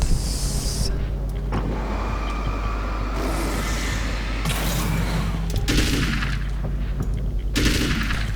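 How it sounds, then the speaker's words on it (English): Gunfire in the video game Alan Wake's American Nightmare: loud, dense bursts of shots that keep blasting over a heavy low rumble, with a siren-like wail in the mix and no speech. "It sounded like I shot more than 1"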